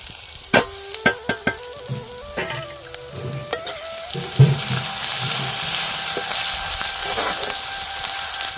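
Tomato, tamarind and ginger-garlic paste sizzle and fry in a pan for a village-style fish curry, with several sharp stirring clinks early on and then a steady, loud bubbling hiss.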